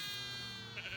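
Sheep bleating in a West Tennessee flock of Katahdin and Barbados Blackbelly breeds, one sustained, wavering bleat close by filling the whole second, with a slight rise near the end.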